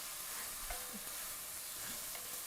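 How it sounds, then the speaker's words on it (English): Braciole browning in a pan, a soft, steady sizzle with faint stirring and a few light knocks, quiet and close with no one talking. "We're going to brown some braciole today."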